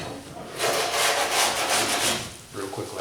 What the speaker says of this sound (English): sand all the filler off the edge